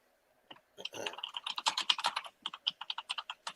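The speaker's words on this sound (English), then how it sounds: "There goes that typing again." Rapid, crisp keystrokes on a computer keyboard, close and clear, coming in quick uneven bursts with short pauses between runs of clicks.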